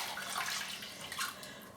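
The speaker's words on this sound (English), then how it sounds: "I'm wetting my face" Warm water is splashed onto a face from a basin, continuous close watery sloshing and splashing with a couple of louder surges, no one speaking.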